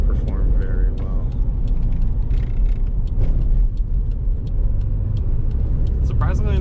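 A 1993 Toyota Hiace Super Custom Limited van cruising at highway speed, with a steady loud low engine and road rumble plus wind noise throughout, and a person talking over it.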